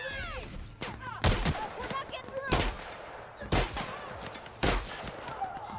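In The Outer Worlds, the player's gun fires several loud, separate bursts a second or so apart among other game sounds, with a voice talking between the shots.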